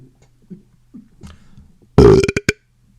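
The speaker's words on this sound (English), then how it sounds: "the dreaded undercountry music news wet belch of the week" A loud, wet belch bursts out close to the mic after faint background murmurs, ending in a few choppy gulping pulses.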